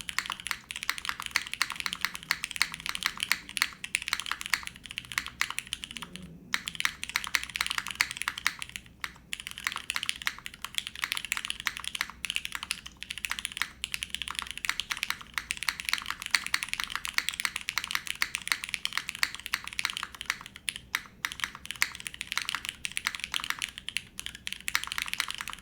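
Steady, continuous typing on a Kohaku mechanical keyboard, dense clacky keystrokes running unbroken throughout at close range with only a few brief pauses, no talking.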